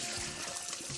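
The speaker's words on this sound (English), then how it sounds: "We're just gonna strain that out thoroughly." Rice rinse water draining and trickling through a strainer into a bowl in a kitchen, a steady broadband wash of pouring liquid lasting the whole moment, close and continuous.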